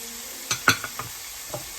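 A spoon stirs deep-fried red pepper, green beans and paneer together in a pan for vegetable jalfrezi, making a few quick scraping, clattering strokes over a soft sizzle.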